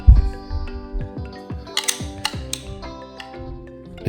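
Mechanical clicks and ratcheting creaks from tightening the adjustment on a RIDGID 18V brushless cordless compact router, a string of sharp, close knocks and metallic ticks at an uneven pace with no talking.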